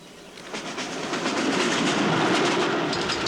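The overnight train from Moscow to Kharkov rolls along with a rhythmic clickety-clack of wheels and a rumbling carriage, growing slightly louder and steady throughout.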